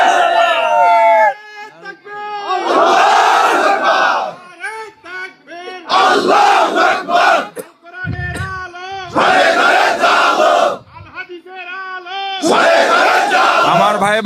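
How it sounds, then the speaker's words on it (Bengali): A large political gathering crowd chanting the slogan Naraye Takbir Allahu Akbar, loud, close and in unison, in repeated call-and-response bursts separated by short pauses, with a leader's voice calling between them. "নারায়ে তাকবীর আল্লাহু আকবারের স্লোগান"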